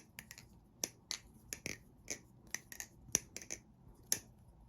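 A custom Kraken balisong knife is flipped, giving sharp, crisp metallic clicks and taps in irregular quick bursts, close and clear against near silence, with no talking.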